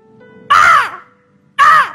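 A human voice imitates a crow, letting out two loud, harsh caws about a second apart, each a short rasping call that falls in pitch, with quiet between them.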